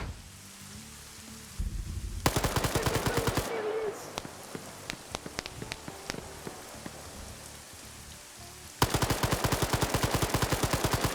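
Video game gunfire in a trench fight, with dense rapid bursts of shots crackling almost like rain, a short pause with scattered single shots, then another sustained volley.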